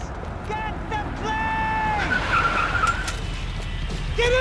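A car skids and races during a chase in the video game Max Payne 3, with a loud engine roar and a long tire squeal sweeping across the clip over steady road rumble.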